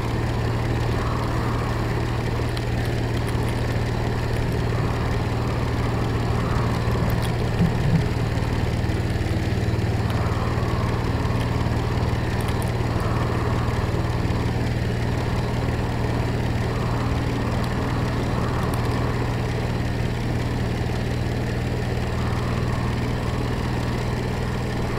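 A boat engine in the Stormworks simulation game running steadily at cruise, a constant low droning hum with a faint rhythmic pulsing, loud and unbroken with no talk.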